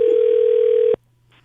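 A telephone gives one steady electronic tone lasting about a second, loud and close, then cuts off into near silence.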